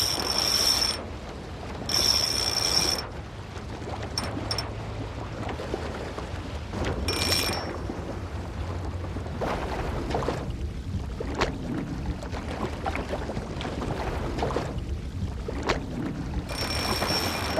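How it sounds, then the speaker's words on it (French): Surfcasting fishing reel on the shore, its spool ratcheting as line pays out in bursts of clicking and whirring, interspersed with quieter gaps and background wind or surf. "la bobine est partie, il y a eu un départ"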